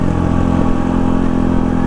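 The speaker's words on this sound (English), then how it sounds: "That engine braking is perfect, it's smooth, it's relevant now to your throttle position." A Honda CRF450RL motorcycle with a freshly flashed ECU runs close and loud, its engine humming steadily at a low, even pitch as the throttle eases off, with no voices over it.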